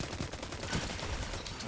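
The Forward Path gun fires in a video game as a dense, continuous burst of rapid automatic shots, loud and close, with no pause for the whole stretch.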